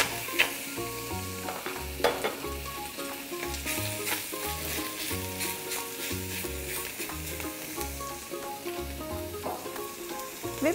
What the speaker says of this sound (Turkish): bir parça da yağ ilave ederek hızlı bir şekilde soteliyoruz